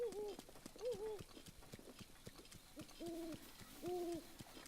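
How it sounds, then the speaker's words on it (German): An owl in the video game Zelda: Breath of the Wild gives soft repeated hoots in paired tonal calls. Steady hoofbeats from a horse clip-clop beneath them in the background. "Uhu."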